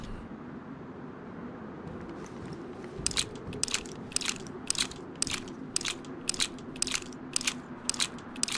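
Footsteps crunching through snow in the video game DayZ, a steady run of sharp, evenly spaced crunches starting partway in over a low background hum, fairly close and clear.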